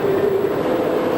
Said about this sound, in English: Train of cane cut ready to go into the factory.